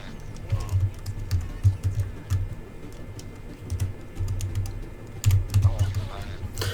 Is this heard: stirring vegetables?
no